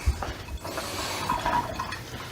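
Water splashing and running during sausage making, a steady broadband wash with faint drips, close and moderately loud, no talk over it.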